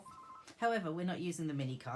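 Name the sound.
telephone ringing in the background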